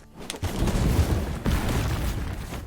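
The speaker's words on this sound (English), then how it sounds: "you flew out of that explosion like an action movie hero" Explosion in the video game Summum Aeterna, a loud booming blast with a dense rumbling roar that swells at once and surges again midway, sustained crackling debris throughout, no talk.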